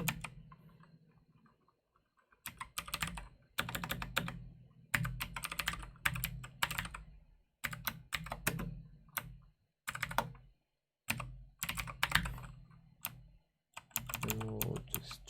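JSON being typed on a computer keyboard: quick bursts of close key clicks separated by short pauses, steady and fairly quiet.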